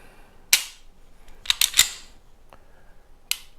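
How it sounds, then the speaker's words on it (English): A Sar K2 45C pistol gives sharp metallic clicks from its trigger reset and break: one crisp click, then a quick cluster of three, and a final click after a pause, loud and close. "tactile and audible click when you reset"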